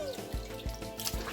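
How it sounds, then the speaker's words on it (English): Water drips and trickles as it drains from a pot of washed turkey pieces in a home kitchen, with a few soft splashing pulses repeating at a steady rhythm, close and fairly quiet. "we are going to drain this water out"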